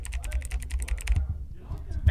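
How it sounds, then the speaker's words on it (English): Rapid clicky computer keyboard typing during a League of Legends charity stream, a steady burst of sharp keystrokes close to the mic, then a brief pause and a few more clicks. "Got a clicky keyboard"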